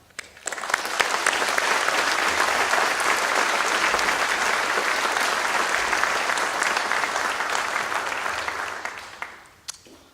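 An audience claps steadily at a Veterans Day ceremony, welcoming a speaker to the podium; dense, sustained applause swells quickly, holds for several seconds, then tapers off.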